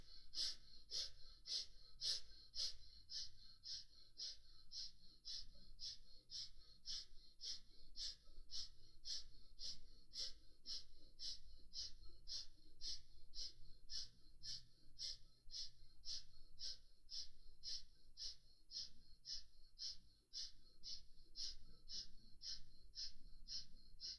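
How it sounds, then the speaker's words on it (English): Quick, short breaths drawn through both nostrils into the rib cage repeat in a steady, fast rhythm of dozens of sharp sniffs, faint and close, with nothing else heard. "you are doing the quick and short breath, breathing through both the nostrils into the rib cage"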